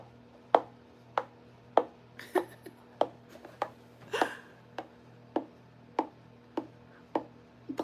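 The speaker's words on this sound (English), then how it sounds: "This is how it sounds when you have your heels on." High heels step across a hard floor in about a dozen sharp, evenly spaced clacks, close and clear over a steady low hum, with a brief vocal sound in the middle.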